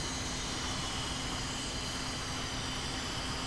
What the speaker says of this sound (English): Engine RP, engines are on.